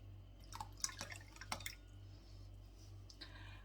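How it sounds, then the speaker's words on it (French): Milk is poured into water in a home kitchen, giving soft dripping and splashing liquid sounds, a few quiet spurts and drips close by, faint overall, with a low steady hum underneath. "on verse le contenu du lait dans l'eau"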